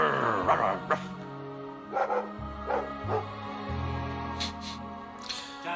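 A dog in Dragon Age II gives a few short, soft barks and yips at spaced intervals over a low, steady hum, with a couple of brighter clicks near the end.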